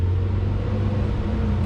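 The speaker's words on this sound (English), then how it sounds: "we have a garbage truck going by" A garbage truck rumbles by nearby, a loud, steady low engine drone filling the short stretch without pause or talk.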